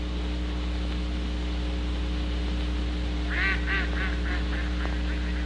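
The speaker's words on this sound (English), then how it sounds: "Look at those ducks" A few ducks quack in a short run of nasal calls partway through, sitting over a steady low hum with no talking.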